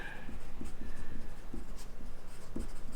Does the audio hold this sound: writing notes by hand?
yes